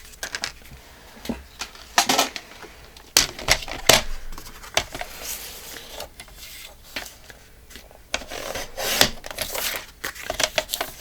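Paper card is cut along a score line while making a vintage Halloween pop-up card, producing a series of sharp snips and rasping cuts, some clustered and some spaced out, close up in a quiet room.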